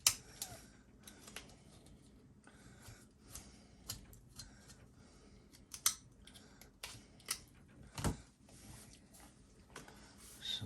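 Hobby blades snip away excess spew from a 1:8 scale resin figure kit, a series of quiet, sharp clicks and cuts scattered irregularly over faint background, one louder snip standing out near the middle.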